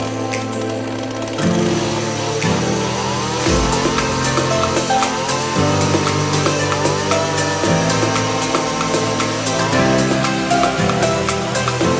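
A saw cuts through a forest log that holds a colony of stingless kelulut bees, its tonal whine rising and falling in repeated strokes that grow louder after a short quieter start.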